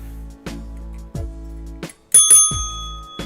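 A bright stream emote bell rings out in several clear dings, evenly spaced across a few seconds, loud and close with no talk.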